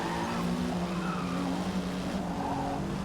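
Race car in the racing game Forza Motorsport sliding and crashing, tires skidding and squealing continuously alongside a steady engine roar with no talking.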